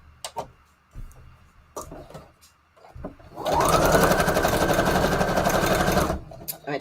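A sewing machine stitches a decorative loop pattern on a scrap paper collage, running as a loud, steady, rapid mechanical whir for about three seconds after some quiet handling noises.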